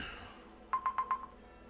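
A phone rings faintly as a quick electronic trill of four or five short pulses, heard alone over a quiet background.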